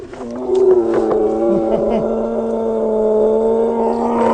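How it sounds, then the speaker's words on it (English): A liger, a lion and tiger hybrid, gives a deep, drawn-out rumbling roar that swells and sustains up close, with no talking. "The sound of ligers."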